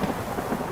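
A thunderstorm in the game Three Fourths Home, with a low continuous rumble and steady rain wash that fills the moment evenly and keeps a muted, distant quality.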